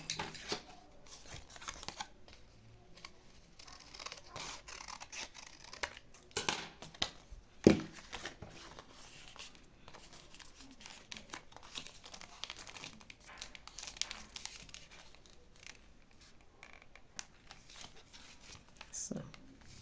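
Material for an open-toe shoe being folded and handled, soft crinkling and rustling in scattered bursts with one sharp crackle, under intermittent speech.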